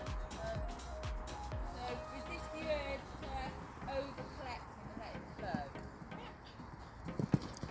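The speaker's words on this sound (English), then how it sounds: "That looks like a better canter." A pony's hooves canter in a faint rhythmic thudding, heard among outdoor background noise with people talking over it.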